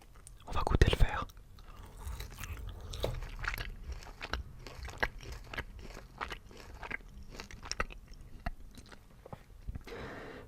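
Soft, close chewing of a green halal gummy candy, with sticky squishes and small crunchy bites repeating irregularly, plus a louder bite near the start and faint whispery mouth sounds throughout.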